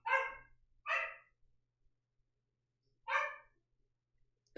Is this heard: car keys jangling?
no